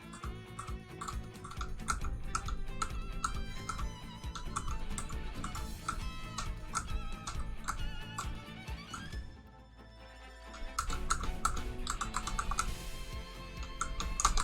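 Computer keyboard keys pressed in rapid, irregular clusters of clicks, close and moderately loud, with a brief pause midway before the typing resumes; no voices.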